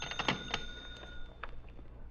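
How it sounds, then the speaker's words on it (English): A telephone rings with sustained electronic bell tones and a few bright chimes, fairly close and moderate in level, with no talk over it. "Then the phone rang, and I was sure that it had happened."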